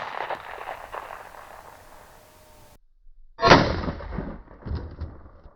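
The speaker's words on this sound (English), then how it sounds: "let's shoot it with the 9mm" A single loud 9mm gunshot strikes level 3+ body armor, a sharp close crack rising out of a dull background and followed by a short decaying rumble and clatter.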